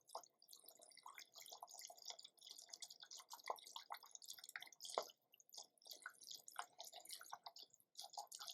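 Water dripping and splashing at a lab sink as a wire is rinsed with deionized water, a quiet run of irregular patters and drips with no voices.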